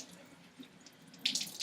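Hot water runs steadily from a tap onto fabric being soaked for dyeing, a soft continuous splashing that grows louder and brighter near the end.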